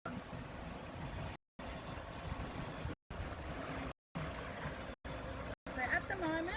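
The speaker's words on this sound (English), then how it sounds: "Then I'm going to turn the pump on and I'm going to turn the emulsifier on." Pump and emulsifier running on an IOPAK 250L cooking system make a steady, broadband mechanical whir and rumble, cut by several brief dropouts.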